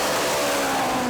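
A drag racing motorcycle of about 1,500 to 2,000 horsepower revving hard, a brief loud sustained engine roar with a steady high whine.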